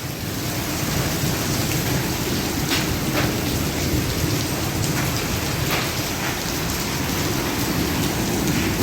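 Very heavy rain pours down with hail mixed in, a dense, steady roar of drops drumming on surfaces for the whole stretch, with occasional sharper impacts and low rumbles beneath, no voices.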